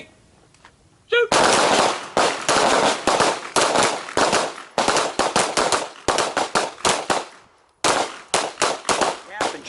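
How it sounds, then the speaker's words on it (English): Handgun shots fired in a combatives training class ring out in long, rapid strings of loud, close reports, broken by a couple of short pauses. "You're going to fire the gun,"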